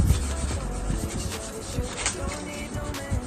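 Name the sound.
rubbing kinesio tape to heat and activate its adhesive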